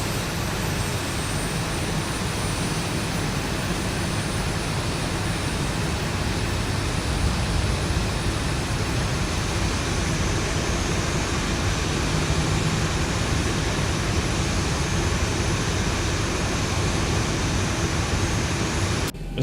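A simulated airliner flying in X-Plane 12 gives a steady, loud, even engine roar with broadband noise that holds unchanged throughout and no voices.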